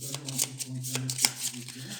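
Cards from the Xenoshyft board game being shuffled by hand, a quick run of crisp riffling snaps and flutters, close and fairly quiet, with a low hum beneath.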